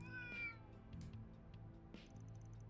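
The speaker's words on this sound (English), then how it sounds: "Oh, there's a little cat over here." A cat in the video game Trails Through Daybreak gives one quiet meow in the Oldtown area, set over low, steady game ambience with a faint tonal background.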